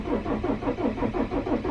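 A car that has sat unused for a long time cranks over on its starter with a quick, even, chugging rhythm of about a dozen pulses. The sound is close and loud.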